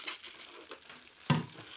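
A clear plastic bag wrapped around a humidifier crinkles softly and close by, in light rustling bursts with one sharper crackle near the end.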